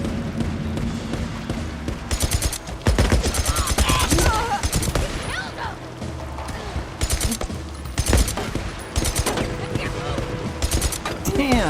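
Rapid automatic gunfire in the video game Days Gone, loud bursts of fast repeated shots interrupted by short gaps, with voices shouting over the firing.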